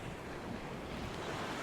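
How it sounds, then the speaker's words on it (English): Steady wash of sea waves at Sea Palling beach, Norfolk, with a continuous broadband surf roar and some wind buffeting on the microphone, no voices. "Let's have a bit of sea behind me."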